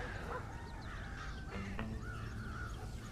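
Crows caw in Red Dead Redemption, several harsh calls repeating over a steady bed of outdoor ambience, with no voices in the clip.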